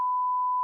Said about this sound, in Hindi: हम इसमें बीप करते हैं।